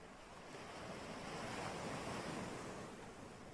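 Sea waves wash against the shore in a broad, soft roar that swells and eases over a few seconds, fairly quiet and distant, with some wind noise and no voices.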